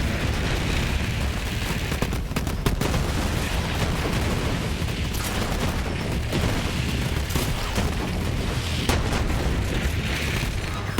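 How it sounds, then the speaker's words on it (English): A pellet-firing shotgun in the video game Borderlands 3, its blasts coming as dense, repeated booming shots amid explosions and chaotic combat noise that stay loud and continuous throughout. "We can fire a lot of pellets."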